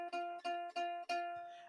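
Up close, the E string of a ukulele is plucked repeatedly in an even pulse, every note ringing clean and bright and left to sustain with no voice over it.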